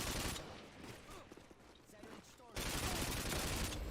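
Video game gunfire while shooting an enemy, dense bursts of rapid shots crackling loudly at the start and again near the end, with a quieter stretch of game sound between.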